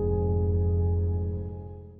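A sustained final chord of a Lydian-mode progression in A-flat, built for a rap production beat: rich low harmonics ringing steadily, then slowly fading over two seconds, with no voice.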